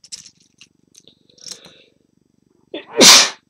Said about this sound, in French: Donc bref, j'éternue, je me mouche